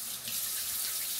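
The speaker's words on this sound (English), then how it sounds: "Let me get some soap and water first." A tap runs steadily into a sink while hands are washed with soap, a soft continuous hiss of flowing water, fairly quiet and close, with no speech.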